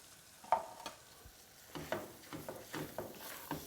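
Flour roux being stirred in a pan for biscuits and sausage gravy: a soft steady sizzle under repeated scraping strokes of the utensil, close and fairly quiet, with no talking.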